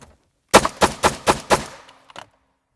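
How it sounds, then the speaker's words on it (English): Five rapid pistol shots fired through a car windshield ring out close and loud in an even rhythm, followed by a couple of faint clinks. "I'm going to fire multiple shots nice and rapid through the windshield"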